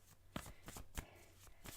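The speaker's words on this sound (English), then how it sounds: "give them a shuffle" A deck of tarot cards is shuffled by hand close up, making soft flicking and riffling rustles in quick irregular bursts, quiet and with no one speaking.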